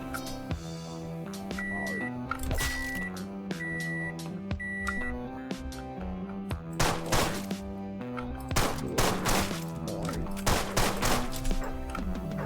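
Gunshots from the video game Deadbolt ring out as a string of sharp cracks and bursts over a tonal music bed with beeping notes, building into denser clusters toward the end.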